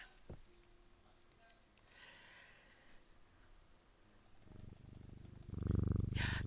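A pet cat purrs close to the listener in a low, steady rumble that grows louder near the end, with soft breathing and small snuffles.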